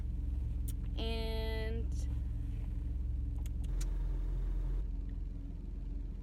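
A car drives along at night with a steady low engine and road rumble throughout, one brief higher tonal whine early on, and a single spoken word near the start.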